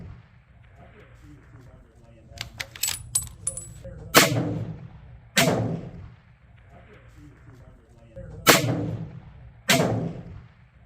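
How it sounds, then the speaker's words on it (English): Rifle shots fired at a 1000-yard target range: a cluster of rapid cracks followed by four heavy, booming reports spaced a few seconds apart, each with a rolling tail, close and loud under faint background chatter. "Me and then somebody else shot at the same target at the same time"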